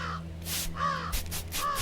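A crow in the video game The Whispering Valley gives two harsh, rasping caws, close and fairly loud, separated by a short pause over a quiet low hum.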